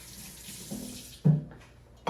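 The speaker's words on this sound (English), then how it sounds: "Now I'll wash my fingers." Fingers rinsed under running kitchen tap water while baking, a steady splashing stream with a louder gush about halfway through, then tapering off.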